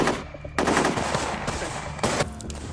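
Sustained automatic gunfire in a military movie battle scene about the Uri attack, loud and dense with bursts continuing throughout and a sharp new volley near the end, no voices.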